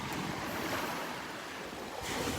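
Ocean water washes up the shore at Delnor-Wiggins beach, a continuous close hiss and churn of surf with some wind buffeting the microphone and no voices.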